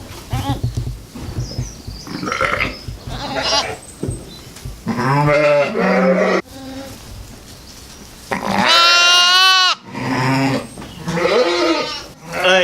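Newborn lambs bleating at a small-scale lambing setup in Brimbach, several loud, wavering cries in separate bursts, close by, alternating with a person talking.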